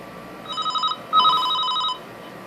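Two bursts of an electronic ringback tone sound on a mobile phone calling a number, a shorter pulsing ring then a longer steady one, clear over faint background hiss.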